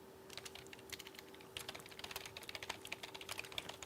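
Fast, uneven key clatter from a MacBook keyboard during a typing race, tapped out hunt-and-peck style with two fingers, with bursts growing denser and louder partway through and no speech over it.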